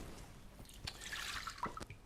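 Cold tap water at room temperature runs into a bowl as a soft, faint trickle with a few light drips and splashes, heard close and with no voices.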